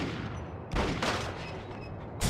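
Gunshots in the video game Max Payne as a lock is shot off, three sharp loud blasts spaced unevenly over a couple of seconds, with no voice.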